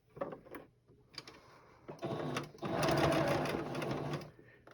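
A plain Singer tabletop sewing machine stitching across fabric in short bursts, then a longer steady run, fairly close, with a brief pause between stitching spells.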